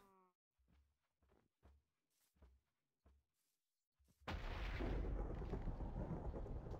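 Thunder from a Minecraft Bedrock lightning storm crashes in and rolls as a loud, deep, sustained rumble, after a run of soft thumping steps.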